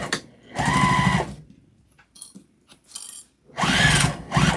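A sewing machine stitching back over a seam on a tote bag, two loud close whirring runs of about a second each separated by quieter clicks and handling noises.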